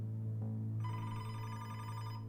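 A telephone rings at a police station desk, a steady electronic trill that starts partway in and continues clearly to the end over a low background hum.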